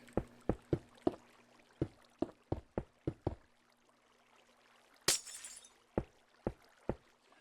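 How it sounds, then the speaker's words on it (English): Glass panes are placed one after another in Minecraft, giving a series of short, crisp clicks in an uneven rhythm with a brief brighter crash partway through, all fairly quiet. "now we're going to put glass panes all around that top block"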